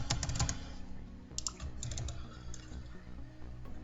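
Steady keystrokes on a computer keyboard, close and continuous, come in quick irregular clusters while someone types a short Python program.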